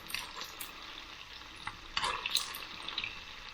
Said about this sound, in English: we'll get that hot oil, just baste it over the top